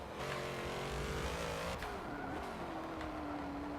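A 1000 HP van in Forza Motorsport 7 roars through the corkscrew at Laguna Seca, its engine note loud and steady with pitch dropping into the downhill bend and a brief tire squeal, no talk over it.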